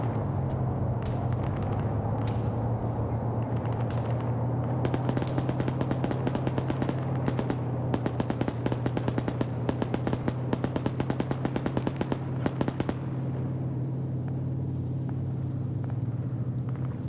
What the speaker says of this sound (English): You got the BTR back here now firing into Delta's position because they were spotted.